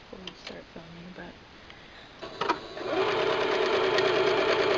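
A sewing machine stitching a cosplay coat for a Maka Albarn costume runs steadily and loud after a brief stretch of voices, a smooth continuous hum with a fast, even stitching rhythm.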